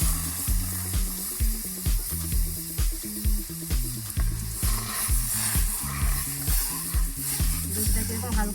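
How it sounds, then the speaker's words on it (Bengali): Milk is poured into a hot wok to start a coconut filling for a Bengali beetroot pitha, giving a steady sizzle and hiss with scraping under loud rhythmic background music. "প্রথমে আমি দুধটা দিয়ে দেবো।"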